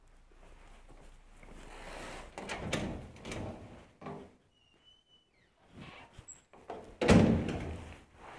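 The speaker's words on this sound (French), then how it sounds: "il faut venir fermer la porte" A door is shut with a solid thunk in a home, heard after some rustling and movement, the closing impact landing loudest near the end.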